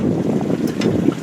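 A brief stretch of strong wind on a lake while fishing from a boat, a loud, continuous low buffeting roar with faint water noise and no speech.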